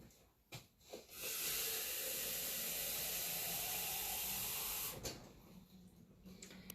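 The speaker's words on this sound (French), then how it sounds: "je vais remplir tout simplement d'eau" Tap water hisses and sprays steadily into glass sprouting jars for about four seconds, loud and close. A few faint knocks and clinks come before it, and quieter handling noises follow.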